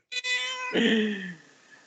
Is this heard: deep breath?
no